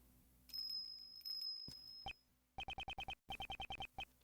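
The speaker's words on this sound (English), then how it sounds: "Is that a bell?" A bell rings in a voiced Ace Attorney game scene: first a long sustained high ringing tone, then a rapid run of sharp repeated chimes in quick bursts, clear and near.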